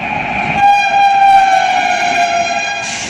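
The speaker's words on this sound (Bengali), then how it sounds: "এক্সপ্রেস যাচ্ছে।" An express train passing a station sounds a long, loud, steady horn with strong tonal harmonics, held for over two seconds over rumbling rail noise.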